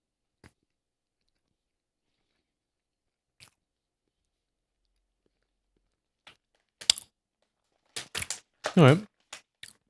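Someone bites into and chews a dorayaki with a coffee-flavoured cream filling, the crunchy bites and chewing close and loud in short bursts late in the clip after near silence, with a brief spoken word.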